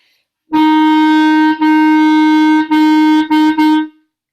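A single sustained note F, played with the thumb in a beginner lesson, sounds loud and steady through a short rhythm of one long tone followed by several briefer repeated notes, with no voices.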